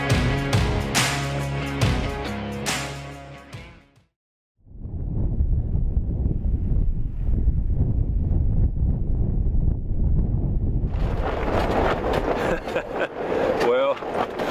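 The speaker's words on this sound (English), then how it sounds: "Wind started blowing this morning pretty early. It's up to about 70 or 80 now." Strong Alaskan wind, around 70 to 80, blows in a steady broad roar across the microphone. It follows a passage of music that cuts out briefly, and a hissier gust sweeps in near the end.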